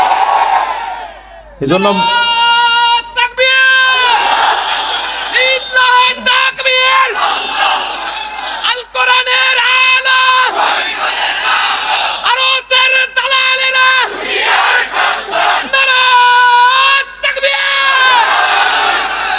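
Large crowd chanting the Naraye Takbir slogan: a leader's amplified call and massed voices answering in loud, rhythmic bursts, repeated again and again with brief breaks, close and reverberant.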